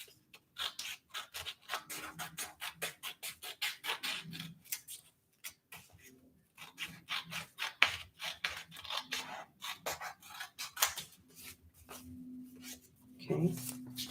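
Scissors snip steadily through glued paper pages in a gluebook, a quick close rhythm of crisp cuts and rasping strokes, with a brief hum near the end.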